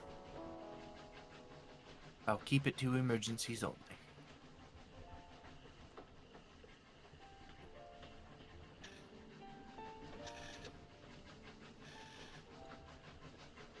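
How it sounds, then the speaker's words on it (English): A train pulls into a station, with a brief loud burst of rattling rail noise near the start that settles into a quieter rumble while people talk over it. "as the train begins to pull into the station"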